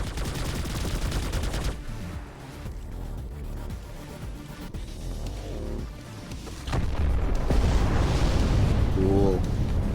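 A dense, rumbling roar of explosions in Planetside 2 mixed with rapid gunfire bursts, loud and continuous, building to a heavier blast toward the end.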